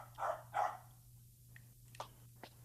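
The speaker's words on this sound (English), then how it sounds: "Dude, this dog is making the content worse" A dog gives a few short barks, two louder ones close together followed by fainter yips, over a steady low hum with no talking.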